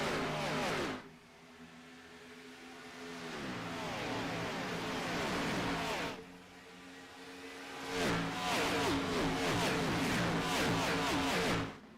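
Stock-car engines from a sim racing game roar continuously, rising and falling in pitch as they rev and shift, a dense pack of cars droning loudly with no gaps.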